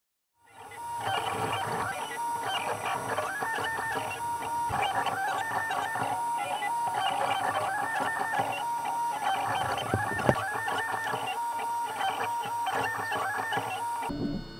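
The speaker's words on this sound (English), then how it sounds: "Alexa, turn on 3D printer." A 3D printer runs steadily, its stepper motors whirring and buzzing in repeating melodic patterns, close and continuous for over ten seconds after starting from silence.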